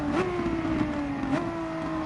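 Race car engine circling Bathurst in GT Sport, a steady loud high drone with pitch shifts as the revs climb and drop through gear changes, continuous and alone.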